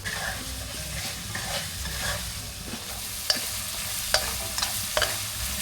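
Spice paste with turmeric powder stir-frying in a pan for Indonesian chicken noodles, a steady sizzle with the scrape and tap of a utensil stirring several times.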